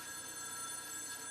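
A telephone rings with a steady, continuous bell tone, fairly faint and alone.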